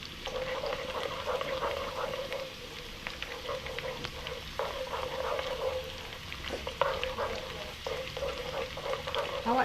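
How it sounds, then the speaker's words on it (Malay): Small shallots sizzle steadily in hot oil in a pan for Johor-style asam pedas, a continuous close frying crackle with occasional stirring scrapes and pops throughout. "so kita tumiskan bawang tadi, kan? Tumiskan dulu bawang kecil ni tadi."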